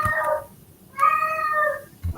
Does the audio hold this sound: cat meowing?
yes